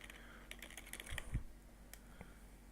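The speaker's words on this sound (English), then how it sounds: "you can just type it here to search for it." Quiet clicking of keys being typed on a computer keyboard, a short run of irregular taps with a slightly louder thump near the middle, close and alone over faint background hum.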